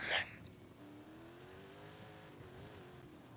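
A tuned truck with a 10-speed gearbox revs in a racing video game, its engine tone rising steadily and held under a steady background hum, opening with a brief bright burst.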